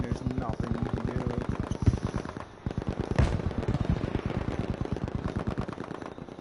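Gunfire from a competitive first-person shooter match: rapid, steady automatic bursts rattling almost continuously at close range, with a few heavier single shots mixed in and a short pause midway.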